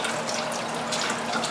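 Tap water runs steadily into a kitchen sink while an onion is peeled beneath it, a close, continuous splashing rush without a break.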